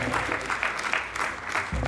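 An audience in a conference session room claps to welcome a speaker onto the stage, steady dense applause at moderate volume with no voices over it.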